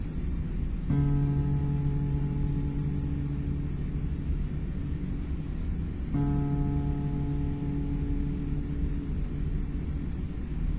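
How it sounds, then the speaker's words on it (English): A guitar's D string is plucked twice, several seconds apart. Each note rings out clearly and sustains over a low background rumble. "The D string will sound like this."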